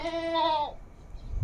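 A single close goat bleat from a roughly 45 kg male goat at a livestock sale, a clear wavering cry lasting over half a second before fading into quiet background noise.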